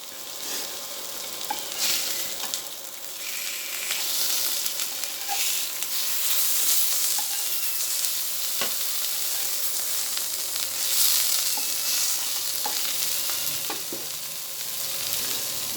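Fish frying in a pan with only a little oil drizzled over it, a steady close sizzle and crackle with scattered small pops and a faint stirring scrape, no talking.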